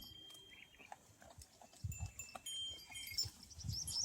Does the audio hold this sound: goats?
yes